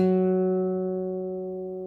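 One guitar note on the fifth string at the ninth fret, played without vibrato, a clean, steady tone that rings close and alone, fading slowly and evenly.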